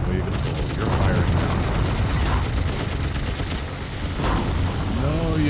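Rapid machine-gun fire from aircraft in the dogfight game Wings Remastered rattles in fast repeated bursts over a steady engine drone, loud and dense, with someone talking over it.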